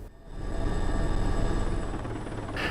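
Inside a helicopter cabin, a steady loud engine and rotor drone with a low pulsing thrum, continuous and close, with no talking.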